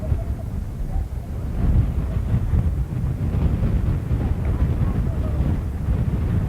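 Strong wind gusts across a microphone at a high school baseball game, a heavy, continuous low roar that swells and fades slightly, with faint commentary in the background.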